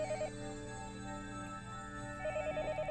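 A phone rings in the Higurashi visual novel game, a quiet electronic trill with repeating bursts at the start and end over a soft, steady background tone.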